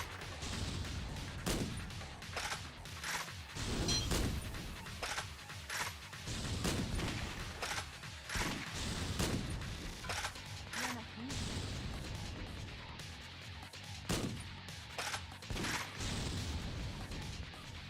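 Repeated gunfire bursts and impacts in the zombie-shooting game Yakuza Dead Souls, with sharp shots spread across the whole stretch over a dense background of game sound effects and occasional voices.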